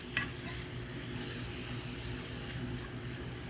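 Shredded BBQ jackfruit cooks in a pan, a soft, steady sizzle with occasional stirring and tossing sounds, faint and continuous with a small clink near the start.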